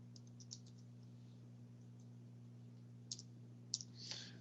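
Faint, sparse computer mouse clicks, a few sharp ticks spread over a few seconds against a steady low electrical hum, made while working in a spreadsheet.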